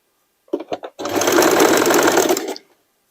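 A sewing machine stitching a denim and sweatshirt dress starts with a few short stuttering stitches, then runs in one loud, fast continuous burst for about a second and a half before stopping.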